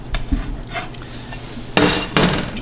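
A knife cuts through a seasoned, pan-fried steak on a plate, giving soft scrapes and then two sharper clinks of metal against the plate near the end, close and clear with no talk.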